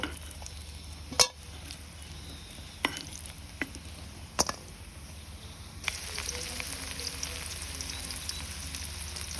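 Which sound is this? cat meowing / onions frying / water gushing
onions frying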